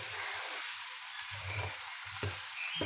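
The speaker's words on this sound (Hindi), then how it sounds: "अब ये मसाले डाल के अच्छी तरह भून लें।" Chicken and spices sizzle steadily in a pan for a potato chicken salan, a constant close frying hiss with soft low stirring thumps underneath.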